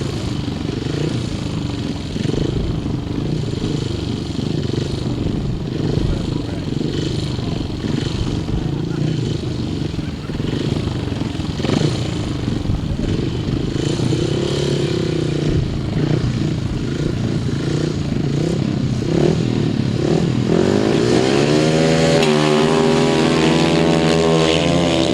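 Two grasstrack sidecar outfits race flat out in a match race at Danebury in 2006, engines revving hard and sweeping past, with a commentator talking over the roar throughout.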